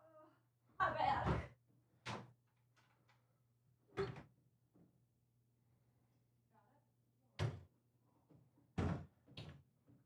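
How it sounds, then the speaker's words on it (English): A door swings open and shut in a room, with several loud knocks and thuds spaced through the stretch over a steady low hum, and people talking in between. "Grab that door for her."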